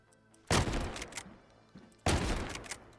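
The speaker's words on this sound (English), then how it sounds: "It's a fun shotgun, but definitely the weakest one." A shotgun firing in the video game Delta Force: two loud, booming blasts about a second and a half apart, each followed by a short rumbling tail and a faint mechanical clack, close and isolated.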